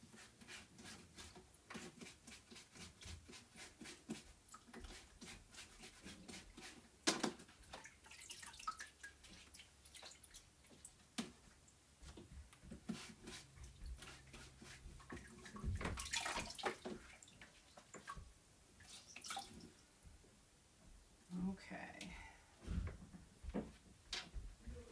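Tap water runs and splashes into a sink while a chalk stencil is rinsed by hand. There are irregular bursts of spray, drips and rubbing, with quiet gaps between them.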